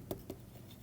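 Two quick, soft strokes of writing on a lecture-hall board, a short tap-scrape pair close together, followed by quiet room tone.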